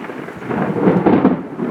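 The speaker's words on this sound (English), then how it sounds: "In this case, thunderstorm outside the window." Thunderstorm outside a window, a low rolling rumble of thunder swelling and fading over steady rain, fairly loud and without voices.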